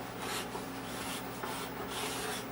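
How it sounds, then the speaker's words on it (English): Card scraper dragged across a machined coin bank part to clear burrs, giving a steady close raspy rubbing in repeated strokes over a constant machine hum, with no voices. "All I do is take a card scraper and then I just scrape the fuzzies off."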